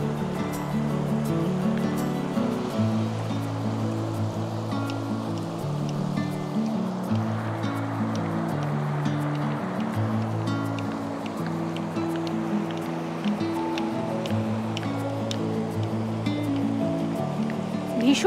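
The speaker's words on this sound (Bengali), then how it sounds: "ভীষণ স্রোত এই দিকটাতে।" Strong river current rushing near a riverbank at Nagrakata, a steady, loud, continuous wash of flowing water with no breaks.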